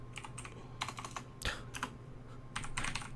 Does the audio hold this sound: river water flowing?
no